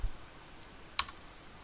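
A single sharp click from a computer keyboard stands out in a quiet room, with a faint softer tap just before it, while a Logo programming session is being typed.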